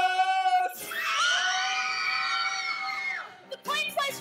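Several women scream together in a young actors' stage play of James and the Giant Peach, a loud sustained shrill chorus lasting a few seconds, with a shout before and voices after.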